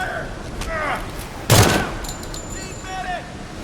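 Incendiary-round gunfire in a video game, a single sharp loud burst near the middle with a short tail, surrounded by quieter game sounds and background chatter.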